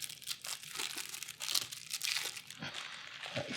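Crinkly plastic wrapping on Marvel Champions card packs being torn and crumpled open by hand, a steady run of close, busy crackling and tearing with no release tab.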